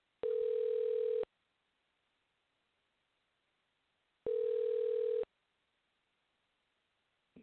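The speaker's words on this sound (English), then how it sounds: "That's a weird ring." After a number is dialed, a telephone ring tone plays as two one-second tones separated by about three seconds of silence. It sounds clean and steady, like a line signal with nothing else in the background.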